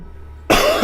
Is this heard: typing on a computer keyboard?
no